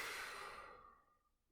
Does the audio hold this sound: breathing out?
yes